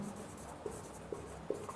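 Pen strokes scratch quietly on paper as someone writes maths notes by hand, with a few sharper taps near the end and no talking.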